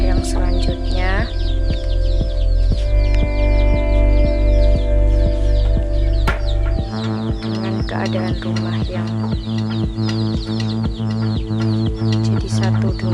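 Chickens cluck and a rooster calls from a coop attached to a house, a dense run of close bird calls over a steady low hum while a person talks throughout.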